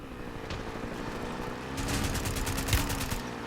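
Rapid automatic gunfire from the Warzone video game rattles in a dense burst over a constant rumble of background noise, becoming louder and more sustained in the second half.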